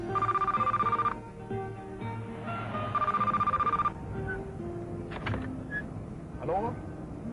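An old-style telephone bell rings in two long trilling bursts in a comic skit, loud and close, with voices and background noise continuing between and after the rings.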